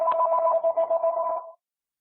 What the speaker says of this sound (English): your phone ringing